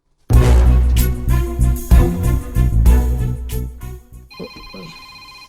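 Telephone ringing loudly and close, a bright repeating ring that fades to a thinner electronic tone at the end, with no talk.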